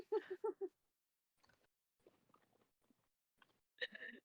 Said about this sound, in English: have you guys been able to hear my apple chewing?